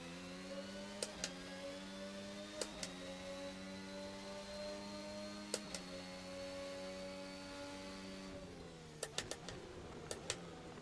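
Onboard engine whine of an RSS formula car mod in Assetto Corsa, a steady high tonal whir that shifts pitch slightly as it runs, punctuated by sharp gearshift clicks and a cluster of quick shifts near the end.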